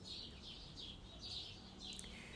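Small birds chirp and tweet in repeated short bursts as part of a background soundtrack, fairly faint and steady, with no talking over them.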